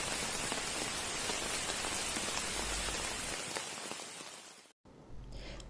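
Steady rain pours down across a Manchester university campus, a dense, loud hiss of drops hitting surfaces that continues unbroken, briefly cutting out near the end before resuming, with no voices.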